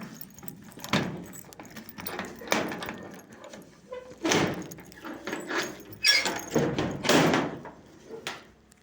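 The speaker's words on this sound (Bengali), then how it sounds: "এই যে আমার রুমটা খুলছি" A room door being opened, heard as a string of clunks, rattles and knocks spread over several seconds, fairly close with little talk.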